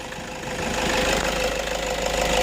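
A car engine idles with the alternator plugged back in, a steady loud rumble and mechanical whine rising in strength after the first half second and continuing evenly, close up, with no talking.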